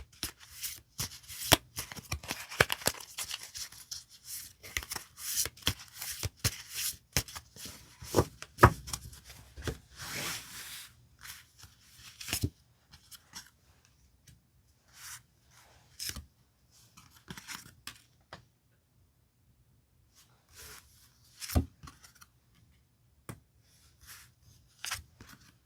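Tarot cards shuffled and handled at close range, soft rapid riffles and flicks in irregular bursts with quiet gaps between, and no talk.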